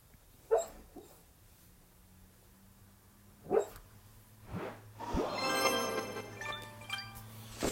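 A pet dog whimpers and yelps in short bursts while dreaming in its sleep, a few sharp cries and then a longer whining, squeaky stretch, fairly close over a low steady hum.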